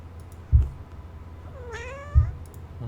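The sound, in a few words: cat meowing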